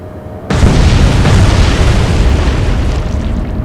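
A sudden heavy boom from naval gunfire in the Atlantic Fleet naval warfare game, erupting after a brief quiet and rolling on as a loud sustained rumble that slowly fades, no voices.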